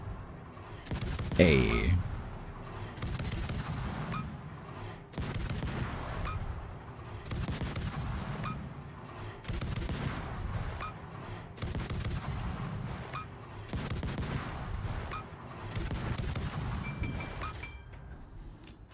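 Naval gunfire in the video game World of Warships: heavy booming salvos repeating at a steady rhythm, one big close blast near the start, with a person speaking briefly.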